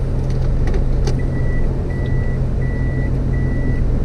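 A car backs up in a parking lot with regular reversing beeps chiming four times over a steady low engine hum, close and clear.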